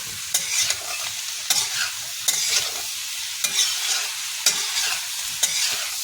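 Mixed vegetable sabzi stirred in a pan on high heat, with a steady loud sizzle broken by regular scraping strokes of the spoon, about every second.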